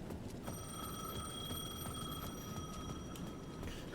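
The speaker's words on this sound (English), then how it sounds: "The payphone at the edge of the plaza was ringing again." Payphone in Alan Wake II ringing with a steady electronic trill, a bright sustained tone pulsing over a dull ambient hum, fairly faint and without voices.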